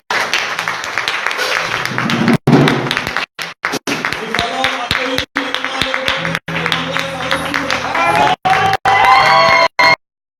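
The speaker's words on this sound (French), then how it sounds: "Alléluia, acclamez Jésus pour sa vie." A church congregation at a CIMIDI France deliverance service applauds and cheers, loud sustained clapping with whoops and shouts that carries on throughout and cuts off abruptly at the end.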